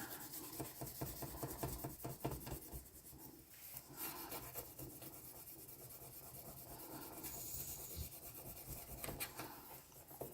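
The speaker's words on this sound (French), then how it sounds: "Et on va aller prendre notre petit gratteur et on va gratter." A small scraper rasps steadily across the surface of a handmade Valentine's card, a continuous close, quiet scratching texture with faint irregular strokes throughout.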